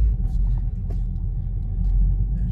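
A 2021 Subaru WRX base pulls away in first gear around the block at dusk, its engine a steady low rumble heard from inside the cabin, continuous and moderately loud with road noise underneath.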